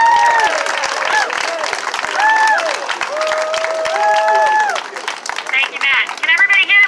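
Audience applause welcoming a councilor to the podium at a community meeting about saving the MBTA E line, a steady clatter of clapping with overlapping voices and cheers that thins out toward the end.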